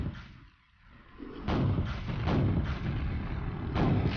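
Rocket launcher fire in the game Quake Remastered: after a short lull, heavy booming blasts and rumbling explosions roll in and keep up steadily at moderate loudness, with no talking.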